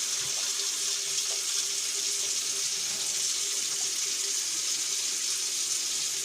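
Steady water rushes from a tap opened after a hose was tightened by hand, a constant close hiss with no breaks and nobody speaking.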